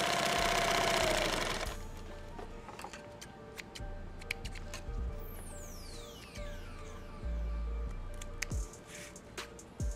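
A pedal-run sewing machine stacks stitches in one spot. A loud whirring burst opens, then the machine settles into rhythmic, close mechanical ticking and knocking in repeated short runs.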